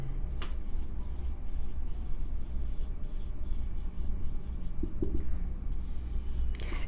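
Chalk or marker writing on a classroom board during a lecture, soft continuous scratching and rubbing strokes under a steady room hiss, with a couple of light taps near the end.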